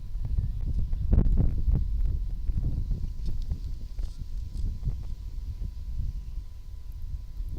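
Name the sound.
wind blowing at the ballfield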